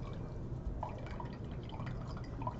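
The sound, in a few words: rinsing carbonate with distilled water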